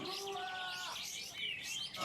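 Songbirds such as magpie robins, kacer, lovebirds, cucak ijo and canaries sing at a bird singing contest, a dense overlapping chorus of chirps and trills with sweeping whistles, fairly close and continuous.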